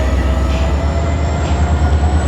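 Train at Bound Brook station, New Jersey, a steady loud rumble with low droning hum and faint high whine, continuous throughout without breaks.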